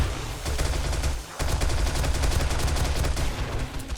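Sustained automatic gunfire from a weapon loaded with armor-piercing rounds in 7 Days to Die, loud and continuous rapid shots with a brief break near the middle before the stream resumes.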